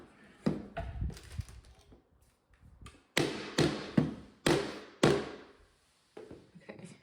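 Sharp mallet taps knock wooden bookshelf pieces together during assembly, bursts of several hits with gaps between, each strike crisp and close with a short decaying thud.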